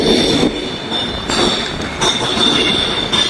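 Train rumbling through Edinburgh station on a cold day, a continuous rolling rail roar with high metallic wheel squeal and faint clacking, loud and close, with no speech.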